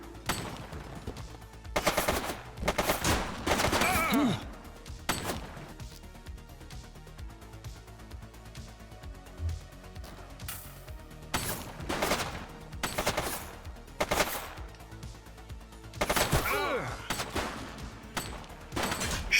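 Gunfire in the police game The Precinct crackles in repeated bursts of rapid, loud shots spread across the whole stretch, with short quieter gaps between the volleys.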